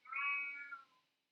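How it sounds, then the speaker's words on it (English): A house cat lets out a single drawn-out meow, clear and fairly close, rising then fading over about a second in an otherwise quiet room. "I don't know if you can hear the soothing sounds of my cat yelling in the background"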